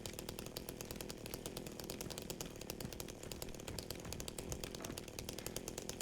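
Video game chainsaw in a Silent Hill–style horror game, its engine rattling in a fast, even pulse that holds steady and low in level for several seconds, with no voices.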